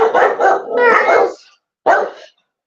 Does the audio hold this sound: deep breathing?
no